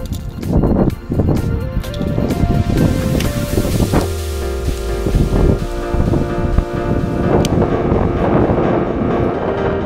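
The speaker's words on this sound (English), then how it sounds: "Wind's blowing into this bank." Wind blowing against a steep lake bank on a clear spring day out bass fishing, a loud, continuous rushing buffet across the microphone with rustling and occasional knocks and thumps close by.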